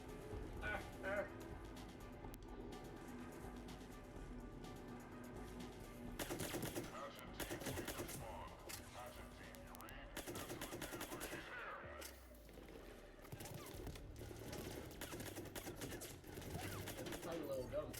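Rapid bursts of gunfire from a small handgun in the Mass Effect 3 video game, firing in dense clusters alongside game effects, with voices speaking over the shots.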